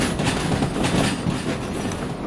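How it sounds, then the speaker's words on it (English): Train rolling on rails in the video game Derail Valley, a continuous loud rumble with faint rhythmic clatter of wheels, no voices. "because I want to reverse this train into the city"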